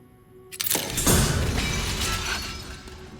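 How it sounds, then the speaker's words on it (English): Glass shattering in the survival horror game Resident Evil Requiem, a sudden sharp crash breaking out of near silence, followed by a spray of tinkling shards and a fading, rattling tail. "Oh, glass breaking."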